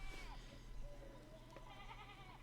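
Sheep bleat in the medieval-village game Pentiment as they hop a fallen fence rail, several quavering calls from a small flock, fairly quiet, overlapping one another.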